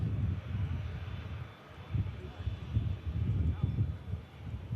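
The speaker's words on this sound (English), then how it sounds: "Next aircraft to touchdown." An ITA Airways jet flying for EasyJet from Milan Linate lands at Manchester Airport, a steady low engine rumble heard from a distance, swelling and fading slightly through the moment.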